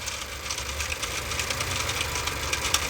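A Honda engine with a broken turbo shaft runs, a steady mid-pitched mechanical clatter with a rough, knocking rhythm and a little rise and fall in revs, close and without talk.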